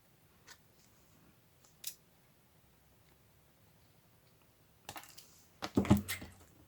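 Scissors cutting a chunk of material in a craft session: two faint snips early on, then a louder cluster of crisp cuts near the end, close by, with no talk.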